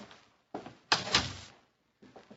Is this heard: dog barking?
no